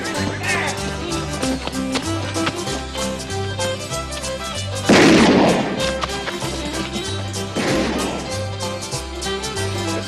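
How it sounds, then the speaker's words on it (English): Two loud, sharp gunshots burst out a few seconds apart in a Western drama scene, cutting through steady background music, with voices speaking around them. "There's somebody shooting."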